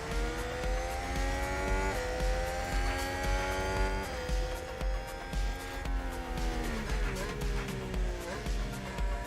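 F1 Manager 22 race cars in a video game: steady layered engine whine from several cars with a brief tyre squeal of a lock-up, all at a constant moderate level.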